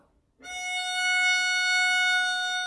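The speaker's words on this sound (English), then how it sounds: "Let's now play the note F sharp with our first finger." A violin sounds a single sustained F sharp, bowed with the first finger on the E string, starting after a short silence and held steadily and clearly to the end.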